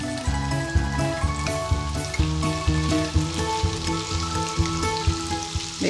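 Onions and minced meat fry in a pan for a keto cottage pie, a loud continuous sizzle with crackling pops and occasional stirring scrapes, close up with no talk.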